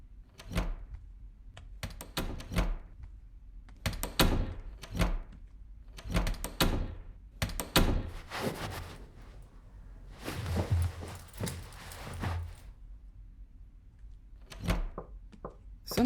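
Someone knocks on a door in a horror game set in a house. The knocks come in irregular clusters of sharp raps spread over several seconds, with pauses and some shuffling noise between bursts.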